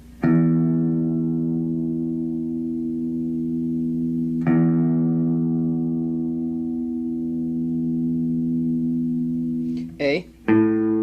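An electric guitar's low E string is plucked twice and left to ring in long, steady, reverberant sustained notes, followed by a brief burst of higher string sounds at the end.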